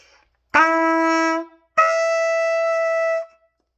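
Two sustained trumpet notes on F sharp, played one after another with a short gap, clear and close with no talking.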